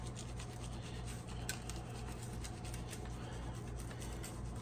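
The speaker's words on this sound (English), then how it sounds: "So now I'm just gonna put some rub on here." Spice rub being worked by hand onto a raw pork butt in a home kitchen before smoking on a Rec Tec grill, a steady close-up rasping scratch that goes on without a break over a low constant hum.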